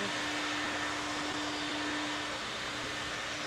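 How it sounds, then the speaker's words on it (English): A vacuum pump pulling a vacuum runs as a steady, loud broadband hiss with a faint constant hum underneath, unchanging throughout and without any talk. "Jeremy, can you pull the vacuum for me?"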